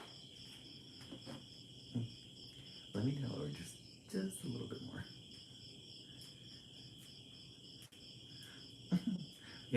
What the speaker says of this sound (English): Yeah, the crickets are kind of wild tonight.